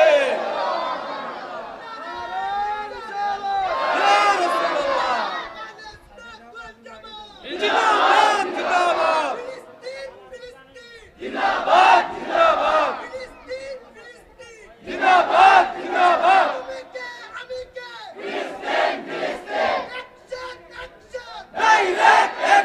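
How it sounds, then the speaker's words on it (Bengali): A large crowd chants slogans in support of Palestine, loud rhythmic bursts of many voices shouting in unison, repeated in waves with short pauses between them. "কারা কারা ফিলিস্তিনের পক্ষে আছেন হাত তুলে স্লোগান দেন।"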